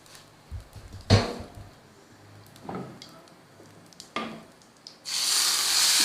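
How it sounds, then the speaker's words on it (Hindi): Cumin seeds, black or white, fried in a tablespoon of hot oil and poured over rice as a tempering: a few sharp sizzling bursts, then a steady loud crackling hiss at the end, with no talk. "1 टेबलस्पून हमने लिया ऑयल और इसमें ब्लैक ज़ीरा ले लें या वाइट ज़ीरा ले लें, कोई सा भी। इसको फ्राई करना है।"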